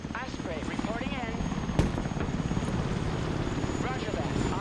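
Osprey tiltrotor aircraft from the game Broken Arrow drones steadily throughout with a rotor-like throb, a sharp impact near the middle, while voices talk over it.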